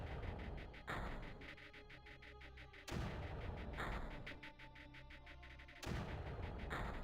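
Mortar fire in the strategy game Creeper World: loud, repeated booming launches about every two to three seconds, each followed by a rattling, crackling tail over continuous dense game noise.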